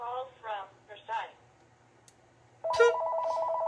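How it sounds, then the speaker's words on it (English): A telephone rings with a loud, steady electronic tone that cuts in near the end, after a voice briefly talks with short pauses. "sorry for the phone ringing"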